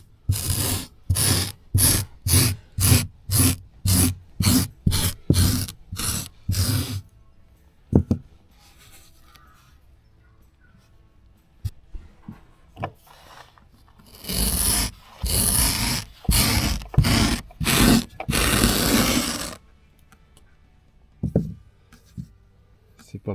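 Cheap Temu car accessory scraping a surface, a burst of about a dozen rapid rhythmic rasping strokes, a quiet pause, then another run of harsh scraping strokes; loud and close, with brief talk in between.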